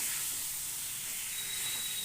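Meat, chicken or mutton, sautéed and stirred down in a pan, giving a steady broadband sizzling hiss that runs without a break, close and even, with no voices.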